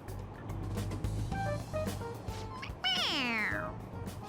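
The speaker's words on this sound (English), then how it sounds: "It meows when you press on its head." A toy cat in Persona 5 Royal lets out a synthetic meow when pressed, first in short chirpy bursts over a low background hum, then one long, loud, falling meow near the end, with no talk.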